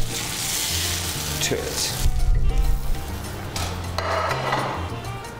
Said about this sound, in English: I'm going to add the oil and the butter